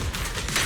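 Suppressive gunfire from a character in Zenless Zone Zero, a dense, continuous burst of shots filling a brief moment at steady loudness.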